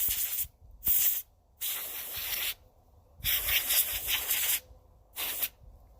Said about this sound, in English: I bought canned air, Austin.